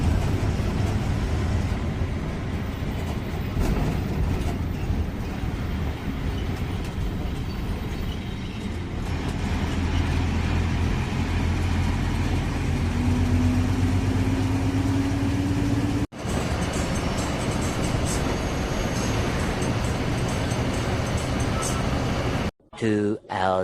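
Steady interior drone of a TNSTC state transport bus cruising at night on the Mettur–Dharmapuri–Chennai route, low engine rumble with road noise, continuous and fairly loud, briefly cut near the end.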